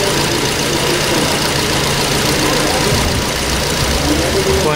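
A car engine runs cold and revs under acceleration, a steady loud mechanical drone with a faint knocking texture, a voice talking over it.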